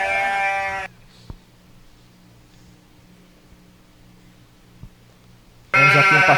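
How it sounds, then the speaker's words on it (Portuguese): A sheep caught in a ditch bleats loudly at the start and again at the end while a shepherd rescues it, with quiet outdoor background between the calls. "Temos aqui um pastor resgatando uma ovelha que caiu numa vala."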